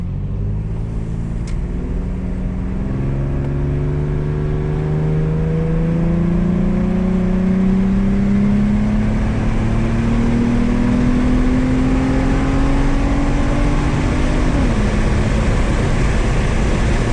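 A 2007 Infiniti G35 coupe pulls hard on a highway at night, its engine note climbing steadily through a long gear, then dropping at a shift near the end, under constant road and wind roar.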